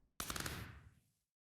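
A rapid burst of homing projectile shots fires in a Minecraft-style video game, a quick rattling volley of sharp hits that decays over about a second, clear and unaccompanied.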